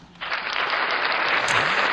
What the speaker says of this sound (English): Again, I clap for you.